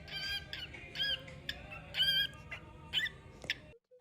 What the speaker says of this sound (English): He's an 11-month-old normal gray cockatiel, and this little guy really sung his way into my heart